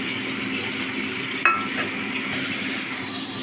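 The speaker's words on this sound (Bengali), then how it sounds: "এবার পনিরটা দেবো। পনিরের নুন আর হলুদ মাখিয়ে রেখেছিলাম, এগুলো আমি ভালো করে ভেজে তুলে নেব।" Paneer rubbed with salt and turmeric fries in oil and ghee, giving a steady, close sizzle with one brief sharp crackle partway through.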